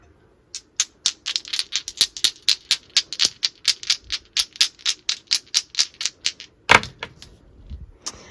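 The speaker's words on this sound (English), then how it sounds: "let's roll the Astro Dice" Astrology dice clatter and tick in a rapid, evenly spaced series of sharp close clicks lasting several seconds, followed by a louder knock and a few final clicks, with no talking.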